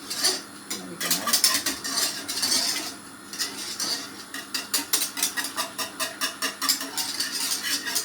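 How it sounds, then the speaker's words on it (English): A spoon clinks and scrapes around a pot on the stove during home dinner cooking, with a steady, rhythmic series of stirring taps that grows regular toward the end, fairly close and with no talking. "I'll just stir it a bit longer and you don't have to listen to it then"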